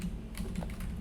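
Quick, light clacks of typing on a computer keyboard patter close by in a loose, irregular run with no voices.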